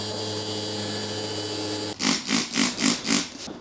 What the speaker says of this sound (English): we're just gonna final sand the inside of this